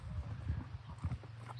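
Horse hooves clip-clopping softly at close range in a shady summer creek-side pasture, a few uneven footfalls over low background noise.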